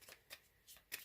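Tarot card drawn from the deck and laid down during a reading: a few soft, close papery swishes and flicks within about a second, no voice over them.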